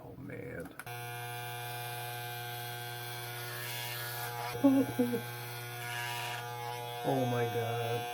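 An electric razor shaves a heavily balding man's head bald, giving a steady, close buzzing hum throughout, while a man briefly exclaims over the drone.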